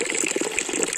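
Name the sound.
natural spring water flowing out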